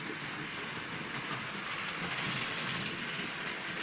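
A model train locomotive runs around a layout, producing a steady, faint, hissing rumble with light rail clatter that stays even and continuous and has no voices over it.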